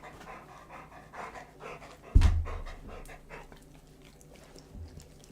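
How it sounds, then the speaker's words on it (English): A happy little female dog pants steadily in quick, soft breaths, with a louder thump or bump partway through and no one speaking. "You're a happy little dog."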